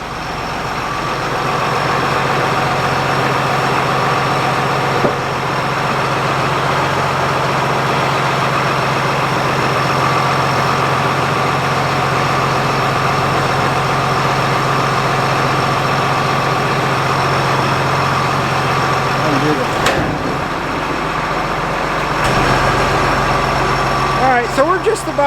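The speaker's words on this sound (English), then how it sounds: "Lift it with the payloader, unhook, and then lift with the payloader." A payloader's engine runs steadily throughout, lifting a frac tank at a dry hill site, with a constant low idle-like drone and loud, continuous machinery noise near the listener; voices are faintly audible beneath.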